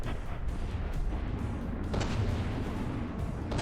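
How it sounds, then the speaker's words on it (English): A missile barrage strikes a ship in From the Depths, a dense rumbling roll of overlapping booms and blasts with a few sharper bursts, loud and continuous throughout. "Missile barrage just hit him in the side."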